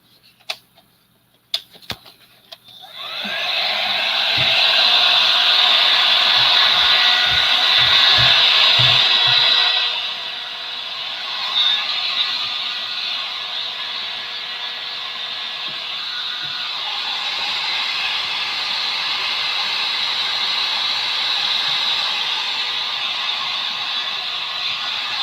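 A hair dryer runs steadily while craft patches are dried, a loud continuous hiss and whir starting after a few sharp clicks, easing slightly in level midway and continuing to the end with no talk.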